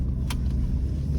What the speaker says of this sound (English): Lamborghini did a great job with this engine